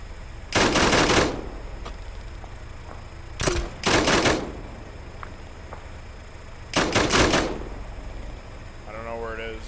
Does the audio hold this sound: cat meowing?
no